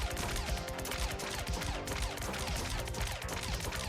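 Dense, continuous gunfire from a Machine Gunner Mark II in the bullet-heaven game Core Devourer, a loud unbroken fusillade of rapid shots and crashes filling the whole stretch.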